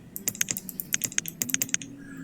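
A computer mouse in a game is clicked repeatedly: a run of sharp, close, quick clicks in small clusters, with a faint voice murmuring briefly near the end.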